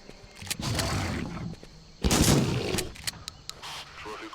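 Gunshots in the game Carnivores: a few sharp, loud reports with clattering bursts, one heavy blast in the middle, scattered over a quieter background with brief spaces between shots.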